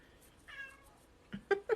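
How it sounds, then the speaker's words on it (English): A house cat meows indoors, first with a longer wavering cry and then with a few quick, louder chirping meows close by, with no talking. "My cat's over here now."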